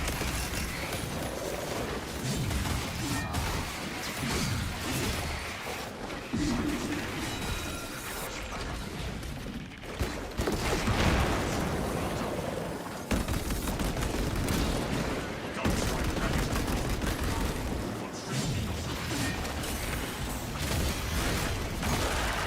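Heavy bolt rifle fire in the Space Marine game, loud rapid bursts of shots and impacts repeating through a long chaotic fight, with someone talking over much of it.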